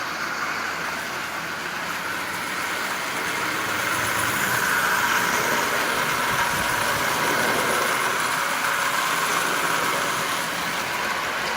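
A Marx 994 toy train with a double reduction motor circling its track, an even whirring hum that stays at a constant level and grows slightly louder midway, close and uninterrupted with no talk.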